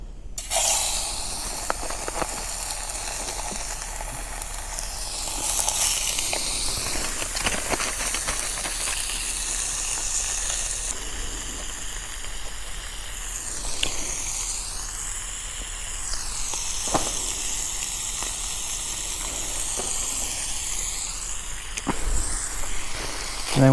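Bacon fries in a can on a camping stove, giving a continuous crackling hiss that swells and fades with scattered pops, fairly close and with no talk.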